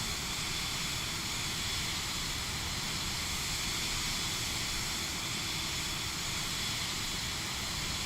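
A Vision Jet engine drones in Microsoft Flight Simulator 2020 during climb after takeoff, a steady broadband hissing roar that stays even throughout with no speech.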